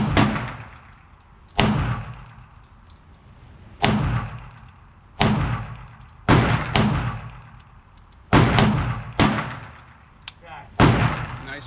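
Springfield Prodigy 5 inch pistol fired cold at a range: nine sharp, loud reports spaced about a second or two apart, each ringing out with a short echoing tail, a few fired in quick pairs.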